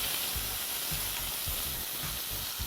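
Sliced potatoes fry with browned garlic in a pan, giving a constant soft sizzle with regular low thumps as the food is stirred or tossed.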